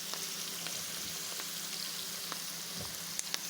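Onions fry in a pan as part of a home-cooked rice lunch, giving a steady close sizzle with a few small pops and crackles and no talking.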